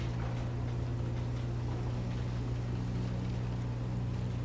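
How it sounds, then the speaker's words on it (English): Steady low hum of a generator running in Sniper Elite 5, a constant droning tone that holds level throughout with faint background ambience. "Sabotage or shoot this generator to get a sound mask."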